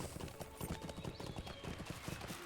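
Horse hooves clip-clop steadily in the video game LOTRO (Lord of the Rings Online), a brisk, even rhythm of close hoof strikes running the whole time with no one speaking.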